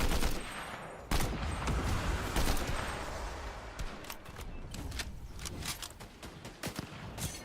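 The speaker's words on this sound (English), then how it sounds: "how does it feel to get shot from behind" Rapid bursts of gunfire in the video game Fortnite, with dense volleys and sharp shots crackling continuously at close range and no talk.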